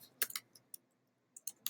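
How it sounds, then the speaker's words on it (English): Scattered keystrokes clatter on a computer keyboard, a quick burst of a few taps followed by a pause and then several more sharp clicks, close and fairly quiet. "So just be mindful of what you're typing in here."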